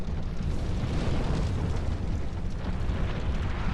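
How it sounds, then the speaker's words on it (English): Fire roars continuously as a windmill burns in Dark Souls II, a dense, loud rumbling blaze with no pauses. "Basically just burn the windmill."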